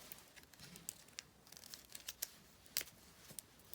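Clear tape pulled and pressed down neatly along an edge while making a coil, giving close, quiet crinkling with sharp little crackles and peel sounds scattered irregularly throughout.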